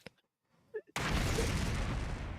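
A sponsor's body exploding in a video game: after brief quiet and a couple of small sounds, a sudden loud blast erupts and roars on as a sustained, rumbling wash of noise to the end.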